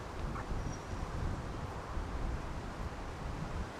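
Wind gusts steadily across an open disc golf course during a European Open pro tour round, a continuous rushing roar buffeting the microphone with no voices.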